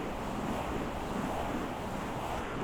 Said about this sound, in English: because we are by the Colorado River, and I couldn't get too far away from the highway